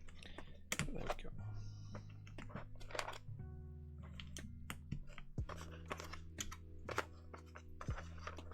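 Keys clatter on a mechanical keyboard with UK ISO keycaps fitted for testing, giving a rapid, irregular run of close clicks and clacks over a low steady hum, with speech faintly mixed in.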